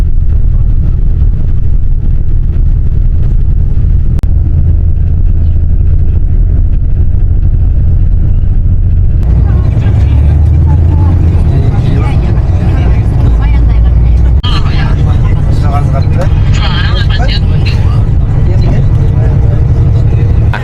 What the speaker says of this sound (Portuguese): Acabamos de descer do ônibus e, por incrível que pareça, foi uma viagem tranquila e não cansativa.